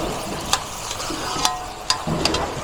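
Pork frying in oyster sauce in a pan with fried tofu cubes about to be added, giving a steady loud sizzle while a utensil stirs, with a few sharp scraping clicks against the pan and no talking.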